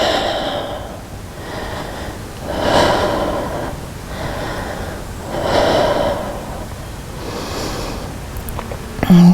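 Slow, deep breaths repeat in an even rhythm, with full inhales and exhales close to the mic during a strength exercise session for spinal stenosis, each breath a soft airy rush. No one speaks.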